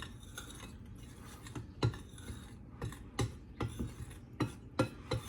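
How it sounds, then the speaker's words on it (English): Batter being mixed in a bowl for crispy onion rings, with a utensil clinking and scraping against the bowl in irregular, close strokes and a few sharper knocks. "now I'm gonna mix that up"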